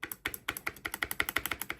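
Rapid keystrokes on a mechanical keyboard fitted with GMK Pulse keycaps and Glorious Fox switches, a close, steady run of muted yet clicky clacks with no voices.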